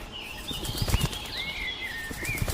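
Animated forest birds take off in different directions to look for grain, a flurry of close wing flaps with short thumps amid faint whistling bird calls.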